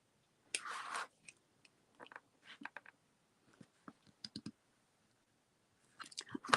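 A carving tool cuts acorn shapes into a lino printing block, sharp clicks and short scraping gouges in uneven bursts with pauses between, quiet and close.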